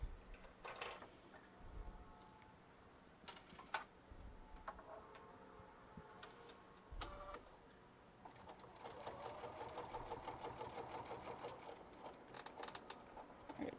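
A sewing machine stitches slowly around a purse curve in short bursts, stopping and starting, then running a longer steady rapid chatter; quiet and close, with faint voice between runs.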